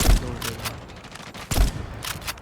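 Two short bursts of gunfire from a shooter video game, each opening with a heavy low thump followed by rattling shots, separated by a brief lull.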